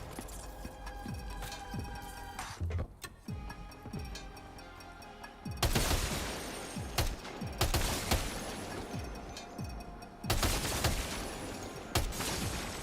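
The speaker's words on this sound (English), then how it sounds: "machine gun feels awesome" Machine gun fire in Death Stranding 2, coming in loud sharp bursts and rapid volleys with short gaps between them, layered over the game's steady ambient and music bed, with no one talking.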